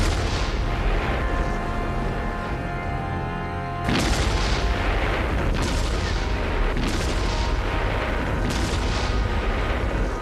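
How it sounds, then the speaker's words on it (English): German K5 railway gun firing its heavy artillery shells, a series of loud deep booms with sharp onsets roughly every second or two, each followed by a rolling rumble, over a dense steady background. "K5 still serve on all fronts, firing their 562-pound shells over 30 miles and packing a mighty punch."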